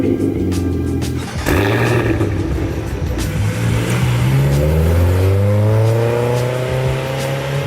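A car engine roars loudly and close by, revving hard and then climbing in pitch as it accelerates away, alone with no talking.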